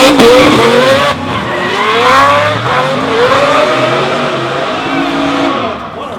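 At a D1NZ drifting round in Auckland, a Falcon and a Mazda RX7 drift cars slide through a hairpin. Engines roar and rev loudly while tyres squeal almost nonstop.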